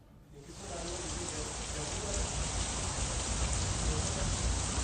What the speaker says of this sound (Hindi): ऐसी बेमौसम बरसात कहीं न कहीं जो आमजन है उसको तो प्रभावित कर रही है